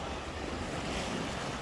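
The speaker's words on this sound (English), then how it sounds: "Further views of this Irish Sea today, just touching these steps that lead to the promenade itself." Irish Sea waves wash steadily against the steps leading up to a promenade, a continuous broadband surf roar with gusty wind noise on the microphone and no voices.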